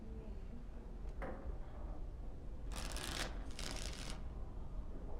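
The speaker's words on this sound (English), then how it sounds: "Before we start, the cards must be shuffled." Two quick, crisp riffles of a deck of playing cards being shuffled in Dragon Age: Origins, close and fairly clear over a low steady background hum, preceded by a faint tap.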